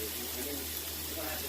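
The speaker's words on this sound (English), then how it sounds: "Let me just wash my hands really quick since I touched that." Tap water running steadily into a kitchen sink while hands are washed, a continuous close hiss with faint splashing and no talk.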